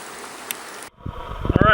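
River water rushes and splashes in The Narrows canyon: a steady broadband wash first, then a closer churning flow with gurgling low bursts building louder at the end.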